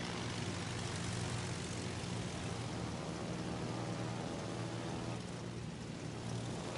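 Carrier aircraft engines drone in the naval video game World of Warships: Legends, a steady dense roar of propeller planes that stays loud and even throughout, with no talking.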